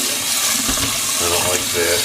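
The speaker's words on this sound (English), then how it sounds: "I just did clean a paintbrush in the sink here." Water running into a sink while a paintbrush is rinsed, a steady rushing stream with faint splashing shifts and a little background murmur.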